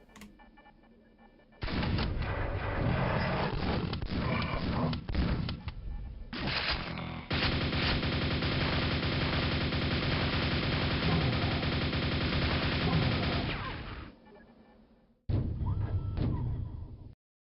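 A nail gun in the shooter Quake, on a Brutalist Jam map, fires in long, loud, sustained rapid bursts that break off briefly and then resume close up.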